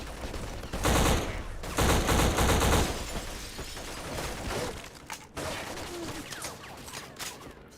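Gunfire in the first-person shooter Black: heavy automatic bursts and rapid volleys ring out loud and close, then fall back to scattered shots and mechanical clatter.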